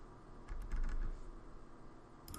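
Fast keyboard typing, a cluster of quick clicks at a desk, bursts of keystrokes over a faint steady background hum, with a few final taps at the end.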